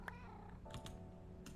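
Minecraft cats meow in a 1.16 hardcore survival game, a few short, fairly quiet meows spread across a faint, continuous game background.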